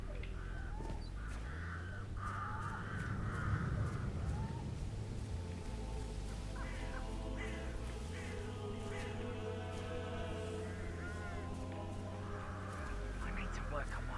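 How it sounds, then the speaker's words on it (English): Crows cawing in Hitman 3, repeated harsh caws scattered across a steady rumbling background, with people talking throughout. "I'll never get rid of those stupid birds."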